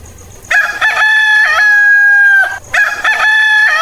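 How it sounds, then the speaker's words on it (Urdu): A rooster crows from a rooftop, two loud, close calls with sustained harmonic tones, the first long and drawn out, the second starting after a short pause and still ringing as the sound ends. "مرغا اپنے گھر کی چھت پر کھڑا تھا اور بانگیں دے رہا تھا۔"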